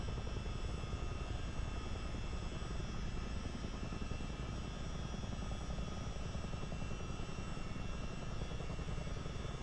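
A Chinook helicopter in Microsoft Flight Simulator 2024 sets down with a continuous broad rotor and turbine roar, steady and fairly close throughout, with no voices.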